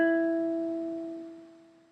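One plucked E string on a ukulele in proper tuning rings close and clean, a single sustained note decaying gradually with no voices.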